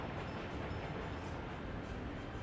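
A train runs in a Workers and Resources management game set in 1930s Poland, heard as a low, steady rumble of rolling wagons. It is faint and continuous, with no voices over it.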